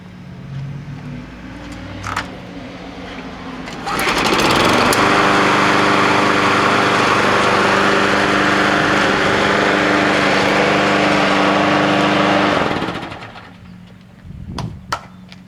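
A Toro Personal Pace lawn mower engine starts up and runs steadily for several seconds at close range, a loud continuous drone, then cuts out, with a few clicks and handling noises before and after.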